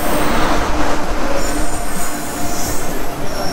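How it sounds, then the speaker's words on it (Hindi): An Indian Railways train from Mumbai to Amritsar rolls past at close range, a loud, continuous roar of wheels and carriages with squealing metal over the rumble. "Indian railway, oh Mumbai to Amritsar आ रही है।"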